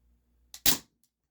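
Isaazon single-stroke pneumatic 4.5mm air gun firing a 10.5 grain pellet: a faint mechanical click, then one quiet, sharp pop that dies away quickly, heard alone and close.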